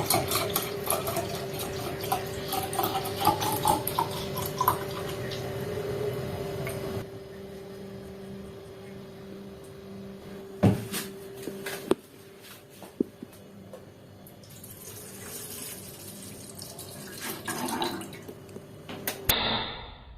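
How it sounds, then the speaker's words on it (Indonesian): Milk for homemade yogurt is poured into a container in a home kitchen, a steady liquid stream with scattered small clinks and knocks, then quieter handling sounds before a short final splash. "Jadi kita langsung tuangkan saja susunya ke dalam"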